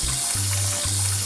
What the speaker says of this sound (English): I'm weighing out the water for making dough and we're using world famous New York City tap water